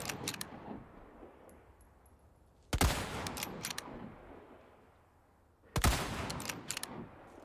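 Gunfire in Resident Evil 4 Remake on Hardcore difficulty, aimed at a tower behind a tree: two sharp, loud shots a few seconds apart, each trailing off in a rattling echo, over a quiet ambient background.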